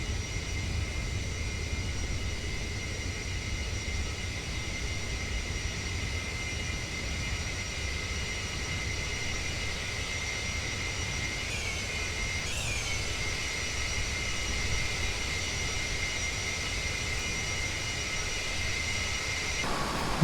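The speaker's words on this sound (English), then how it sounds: "we've got a special permission today to go this fast since we are a military jet or a military bomber" Steady roaring drone of Avro Vulcan bomber jet engines flying low in X-Plane 11, a continuous loud rumble with a high whine, unbroken throughout with no talking.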